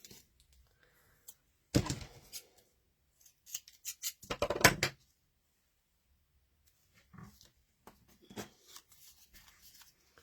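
Scissors cut a piece of paper in a few separate bursts of close, crisp snipping and rustling, with quiet pauses between them.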